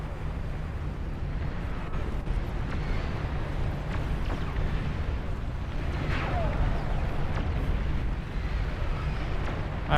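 A commander unit exploding in the real-time strategy game Beyond All Reason during a massive 32-player battle, a loud rumbling blast within dense, continuous battle noise, with speech heard over it.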